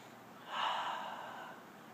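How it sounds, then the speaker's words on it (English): One audible inhale during a yoga pose: a single soft, airy breath drawn in through the nose, close up and fading over about a second with no talking. "And all these you're going to want to breathe in."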